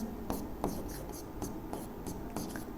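Chalk or marker scratches across a classroom board in short, evenly spaced strokes during a physics lesson, steady and moderately close under a faint room hiss, with no talking.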